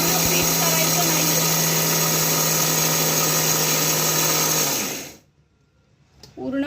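A kitchen mixer grinder grinds fried sev for laddoos, a loud, steady, close motor whir that cuts off abruptly near the end, leaving a quiet pause before a voice begins.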